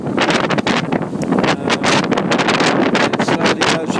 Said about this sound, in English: this wind will blow like this until about Thursday